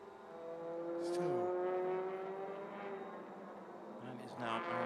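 Touring race car engine on track at the Malaysia Touring Car Championship, a steady droning hum with a pitch shift as it passes, heard under a commentator's continuous talk.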